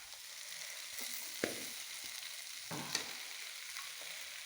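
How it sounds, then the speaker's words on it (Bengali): Food frying gently in a small amount of oil over a low gas flame, a steady soft sizzle with occasional clicks of stirring, close up and without voices. "পোড়া পোড়া করে ভাজলে হবে না, আলতো আলতোভাবে নাড়তে হবে, ভাজতে হবে।"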